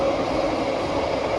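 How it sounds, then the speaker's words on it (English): A new Singapore MRT Thomson-East Coast Line train runs along the track, heard from inside the carriage as a loud, steady rumble and hiss with no break. "It's a pretty awesome train. It's new, smells fresh."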